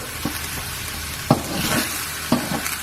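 Pork mince frying and browning in a wok, a steady close sizzle broken by a few sharp scrapes and knocks of stirring.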